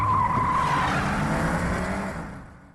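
A stolen car speeds away with tires squealing and skidding, a loud close screech riding over roaring engine noise that fades out at the end.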